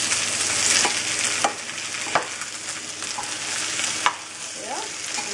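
Schnitzel fries in a pan with a steady, loud, close sizzle, broken by a few sharp scrapes and taps as the pieces are turned.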